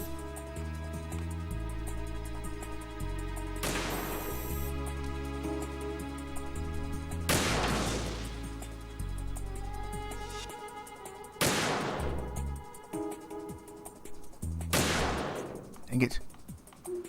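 Metal Gear Solid 2 sniper rifle shots from a PSG-1, four loud, booming reports spaced a few seconds apart amid game music and ambience, with a voice talking faintly in between.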